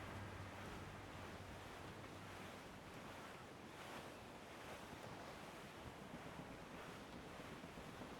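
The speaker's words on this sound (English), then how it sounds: "There's a strong wind now." Strong wind and ocean waves at sea in Assassin's Creed Black Flag roar continuously, a dense, steady wash of gusts and surf with slow swells in loudness and no voices.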